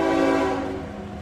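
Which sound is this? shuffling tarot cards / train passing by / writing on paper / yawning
train passing by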